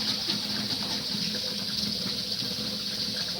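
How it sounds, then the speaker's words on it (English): Tap water running steadily as a coconut milk can is rinsed out, a continuous close hiss and splash at moderate level with no pauses. "Rinse out the can."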